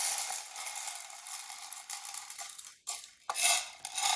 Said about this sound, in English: measuring them out and tossing them in a bowl before you air fry them